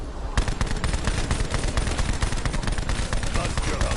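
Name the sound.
Tommy gun firing in a video game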